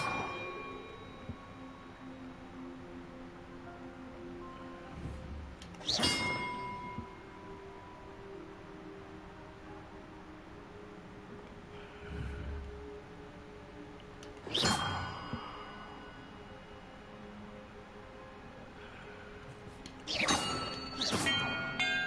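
Bells rung in a puzzle in the video game Hogwarts Legacy, three separate bright ringing strikes spaced several seconds apart, each decaying over a quiet ambient game soundtrack.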